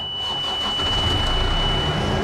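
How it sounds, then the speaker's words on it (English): A Suncor Bronto truck's engine cranks and starts, building from a whirring turnover into a steady, close mid-pitched idle rumble, heard without talk. "once they do that, we start the engine"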